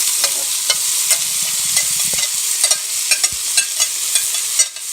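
Chopped shrimp stew ingredients sizzle steadily in a hot pot, a dense bright crackle with repeated stirring scrapes and clicks, close and continuous with no talking.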